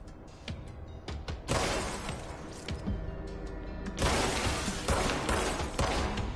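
Glass windows break in the video game Control amid dense gunfire-like crashes, with loud sharp shattering bursts and clattering debris layered over a steady rumbling game mix.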